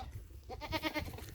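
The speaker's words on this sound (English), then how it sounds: "that's the baby goats" Young goat kids bleating in a spring garden in Queensland, Australia, a few wavering calls rising close by over low background rumble, no talk.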